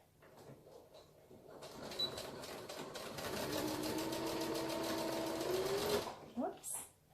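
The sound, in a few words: sewing machine stitching a fabric face mask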